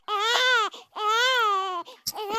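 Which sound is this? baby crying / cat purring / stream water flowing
baby crying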